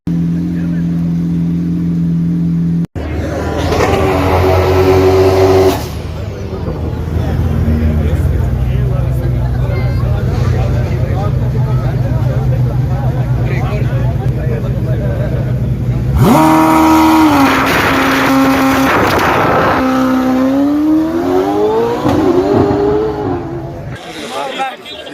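A Ferrari-powered Lotus race car at a Cape Town top-speed shootout roars through a long, loud run, its engine note holding and then climbing in rising revs, with voices speaking over parts of it.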